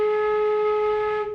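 A flute sustains a single low A flat held steadily for over a second, a clear near tone with bright overtones, fading at the end, no talk.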